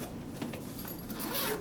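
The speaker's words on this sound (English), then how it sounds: "So if you set this on a table, you can unzip the bag." A zipper is drawn open along a ballot machine's carrying bag resting on a table, a quiet, short ripping run that grows slightly louder toward the end.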